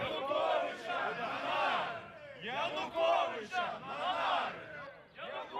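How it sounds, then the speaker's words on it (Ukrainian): Activists in a crowd outside a Kyiv district court shout patriotic slogans in unison, loud rhythmic chanted bursts repeating about every second or so, with brief gaps between calls. "Біля будівлі Оболонського суду люди тримають плакати та вигукують патріотичне гасла"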